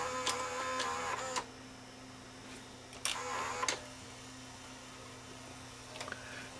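A Sony SLVR1000 SVHS front-loading VCR, recently jammed, runs its tape mechanism in play mode. Bursts of whirring, clicking motor noise come in two main spells and a brief third, close up over a steady low electrical hum.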